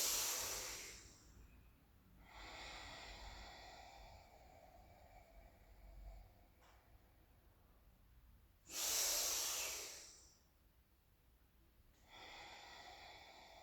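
Deep, forceful breaths in a kundalini breathing exercise, with two sharp, loud nasal inhales and long, steady hissing exhales between them, close and alone, without talk.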